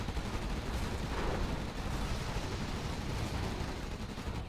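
Gatling cannons fire continuously in a Generals Evolution battle against Scorpion tanks. The barrage is a dense, unbroken roar of rapid shots and impacts that holds steady at high intensity throughout.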